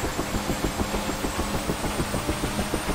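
A Bell UH-1H Huey helicopter turbine in a flight simulator, throttle opening from idle, gives a steady, rhythmic engine drone with pulsing low thumps, alone with no talk.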